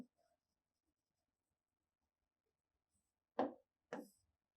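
Two short chalk strokes on a classroom blackboard while a word is written, brief scratchy taps close by, separated by near silence.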